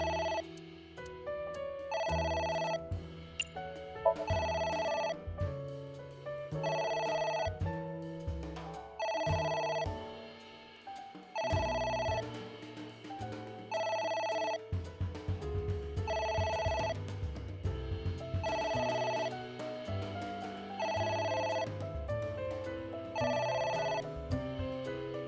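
A phone rings repeatedly in the video game AI: The Somnium Files, a musical ringtone with a steady rhythm of evenly spaced bursts over backing music, continuing for about twenty-five seconds without speech.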